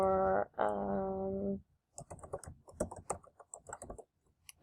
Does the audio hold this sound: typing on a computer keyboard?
yes